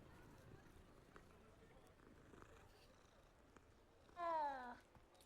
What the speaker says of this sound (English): See a cat, pet the cat.